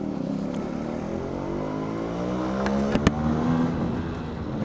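A Yamaha RX-100 two-stroke motorcycle engine runs after a half kick start, a steady close idle with a slight rise in revs toward the end and a couple of sharp knocks, no talk.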